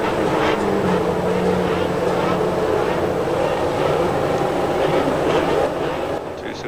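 The Honda V10 engines of McLaren Formula 1 cars rev at the start of the 1990 Canadian Grand Prix, a dense, loud, continuous roar that holds steady, then fades slightly at the end.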